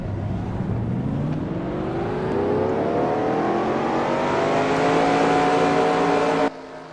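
Race car engines in a racing game rev together at the start, a loud sustained roar climbing steadily in pitch over several seconds before cutting off abruptly near the end.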